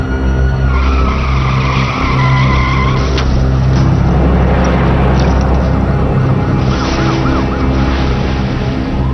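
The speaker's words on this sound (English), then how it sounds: "he loses control there! Hits the guardrail, continues, now drives across the street, and the car overturns!" During a police pursuit a car skids out of control, hits a guardrail and overturns. Tires screech in a loud, sustained roar of engine and road noise, with a brief impact crack partway through.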